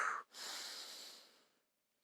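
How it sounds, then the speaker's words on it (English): A long, deep breath during a prenatal yoga session: a short airy intake, a brief pause, then a smooth, steady exhale that slowly fades, close and soft, with no talking. "we're inhaling the good and exhaling out the bad"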